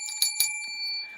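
A small handheld reward bell is rung twice in quick succession, bright metallic dings with a sustained ringing tone that hangs on after each strike, close and clear in a quiet room.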